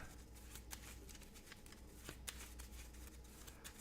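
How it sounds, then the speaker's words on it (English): A deck of playing cards for a Marvel Champions card game is shuffled close up, making a steady riffling flutter with a few sharp snaps, alone with no talking. "That's a pretty good shuffle, eh?"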